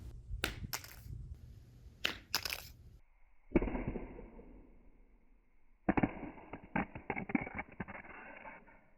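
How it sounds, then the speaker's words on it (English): A Samsung Galaxy S22 phone dropped flat on its back onto concrete, giving a sharp hard impact followed by a brief clattering bounce, preceded and followed by scraping handling noises close by. "Now I'll drop it on its back."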